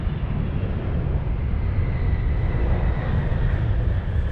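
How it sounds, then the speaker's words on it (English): A fixed-wing airplane passes low overhead on its approach to land beside a cemetery in Illinois, a steady, broad, loud roar with a faint whine that holds without pause throughout. "plane coming in right now"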